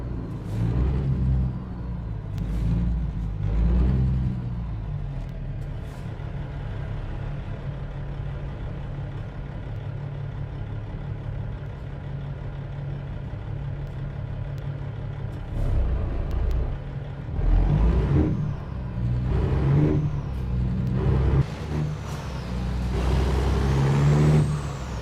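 Tractor-trailer truck engines in an American Truck Simulator drag race rumble and rev, with loud bursts near the start and again toward the end and a steadier drone between, plus hissing air-brake sounds.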